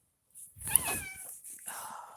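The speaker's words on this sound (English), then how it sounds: "These cats, everywhere I go, they follow." A cat's meow rises loud and close, its stretched harmonic call sliding downward before a softer second mew follows, with a high steady hiss in the background.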